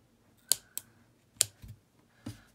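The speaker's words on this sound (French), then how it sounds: "Et je coupe l'excédent du fil." Scissors snip off the excess thread on a small oval handmade basket: a few crisp, close clicks spaced irregularly in a quiet room, with no talking.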